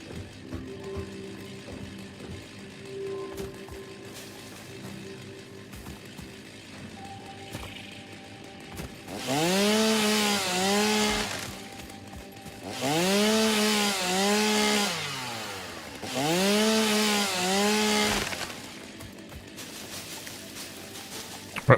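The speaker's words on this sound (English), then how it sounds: "the area mode of the chainsaw requires me to actually target a tree or leaves or something" Chainsaw in the video game Satisfactory cutting through trees and foliage, three loud revving bursts of a few seconds each after a quieter stretch of game ambience.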